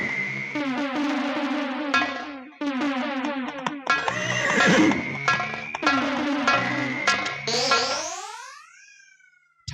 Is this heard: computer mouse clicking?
no